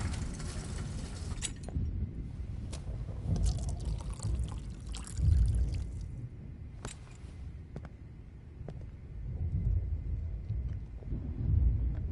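Water poured in the game Life is Strange, a soft trickling pour running under low ambient rumble with a few faint clicks.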